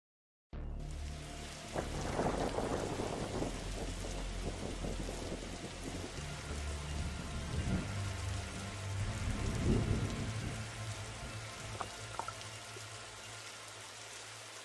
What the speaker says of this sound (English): He must have seen the strange storm gathering over it.